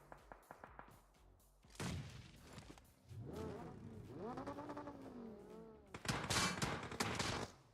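Gunfire in an esports video game match, with bursts of rapid shots and sharp cracks mixed with revving engine sounds, fairly faint overall and rising into dense fire toward the end.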